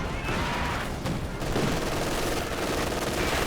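Sustained machine gun fire from a Company of Heroes 2 4v4 battle, rapid overlapping bursts forming a loud, dense rattle with other gunfire mixed in.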